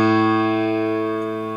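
One A note struck on a piano sustains for a moment, a single clear, close tone decaying gradually with no speech around it.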